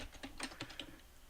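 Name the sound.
typing an email address on a computer keyboard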